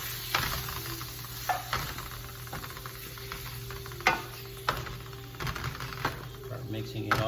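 Tomato is stirred into sizzling Spanish paella in a pan: a steady sizzle with repeated scraping, clacking strokes of a utensil against the pan, close up, under a faint background hum.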